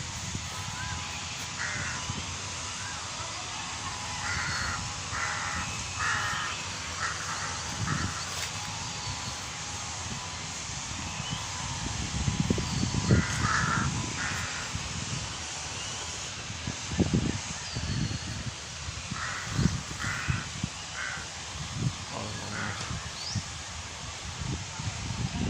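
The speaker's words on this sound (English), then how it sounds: "This is the one companion bird on all 3 continents." Crows caw in repeated clusters of harsh calls at moderate distance, over outdoor rustling and low background noise, with occasional other bird sounds.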